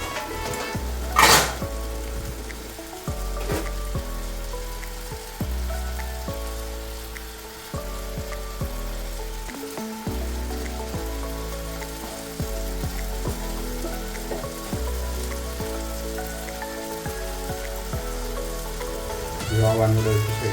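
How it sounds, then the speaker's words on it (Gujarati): Hakka noodles fry and are mixed in a hot pan, producing a loud, continuous sizzle with intermittent clinks and scrapes from stirring, plus a sharp flare of noise near the start. "કળાઈ જાય એટલે પછી કલર આવવા મળે એટલે પછી અંદર નૂડલ નાખી દેવાના છે."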